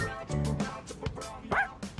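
Koromaru, the dog in the video game Persona 3 Reload, gives a few quick yipping barks and a short whimper, close and clear.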